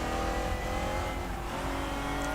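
A race car engine in the RaceRoom Racing Experience sim revs hard under throttle on track, a loud, steady buzzing drone with shifting pitch and a hint of tire noise, with no voices.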